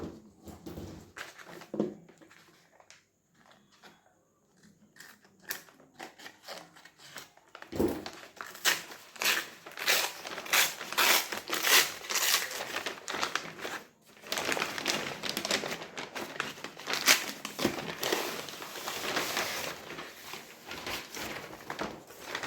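Plastic cover packaging on NCERT textbooks crinkles and tears in irregular bursts, close and fairly quiet, with quieter pauses early on and continuous rustling later.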